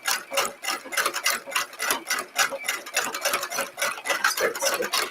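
A sewing machine stitches lengths of piping, its needle running in a fast, steady, close-up patter of clicking pulses for several seconds with no voices.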